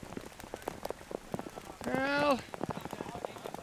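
Rain patters and taps on surfaces at an outdoor T10 cricket match in Portugal, a dense crackle of close drops while a commentator speaks over it.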